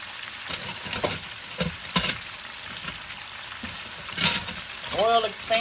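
Chicken pieces frying in hot oil in a pan give a steady crackling sizzle with bursts of spitting as pieces are slid in, under a voice speaking near the end.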